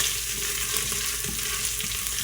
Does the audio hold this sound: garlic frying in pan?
yes